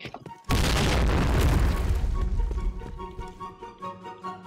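A grenade explodes in a tactical shooter game, a sudden loud boom that cuts in after a brief quiet and rolls into a long, fading rumble with lingering debris and ambient game sounds.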